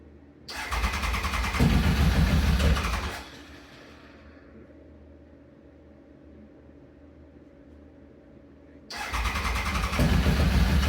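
A 1996 Triumph Thunderbird 900 motorcycle engine, one with clutch trouble, fires up loud and close, runs a few seconds, drops to a quiet low rumble, then roars back to full running.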